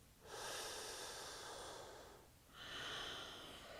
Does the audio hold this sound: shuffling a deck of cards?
no